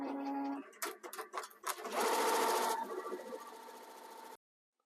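An embroidery machine stitches a design onto a chunky knitted beanie patch, its rapid mechanical whirring starting in bursts then running steadily and close before stopping abruptly.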